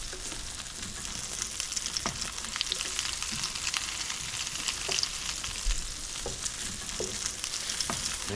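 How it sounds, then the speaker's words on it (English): Crab cakes sauté in a hot pan with a steady, dense sizzle and crackle that continues throughout, broken by occasional sharper pops and spits of oil, with no talking over it. "gonna saute it on each side until it gets golden brown"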